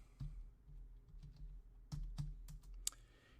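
A short run of quiet computer keyboard taps as a folder name is typed, a few soft clicks spaced irregularly.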